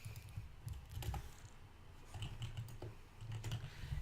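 Fingers type on a computer keyboard in irregular bursts of quiet clicks and clacks, close by, with short pauses between runs of keystrokes and no talking.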